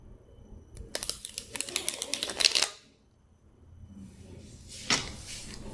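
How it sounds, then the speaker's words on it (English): Two decks of poker cards being riffled and interleaved, a rapid burst of crisp flapping clicks for about two seconds, then a pause and a second short riffle sound. "Mr. Chua trying to interleave two decks of poker cards"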